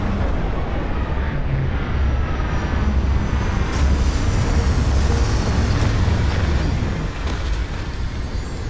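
A spaceship in Starfield descends to land at an abandoned Helium-3 facility, a loud continuous engine roar and rumble holding steady for several seconds, slightly easing near the end.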